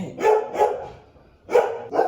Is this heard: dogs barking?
yes